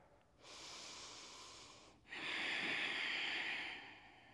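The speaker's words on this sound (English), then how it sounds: "And we'll connect to our breath here." Two slow, close breaths through the nose, one long inhale followed by a fuller, louder exhale, with a brief pause between them in an otherwise quiet space.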